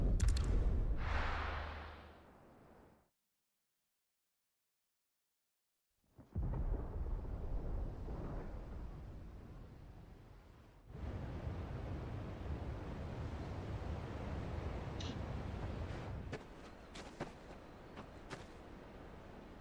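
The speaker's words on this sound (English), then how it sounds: "Sounds like thunder." Thunder rumbles in the video game Final Fantasy XVI, a deep, broad roll that fades into a brief silence, then returns as a long, steady, stormy rumble with wind-like wash and a few faint crackles, without any voices.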